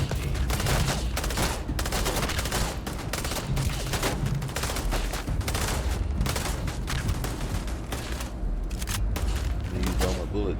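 Constant player gunfire in Starfield, with dense rapid shots and heavy bursts packed together at close range, loud and sustained almost without pause.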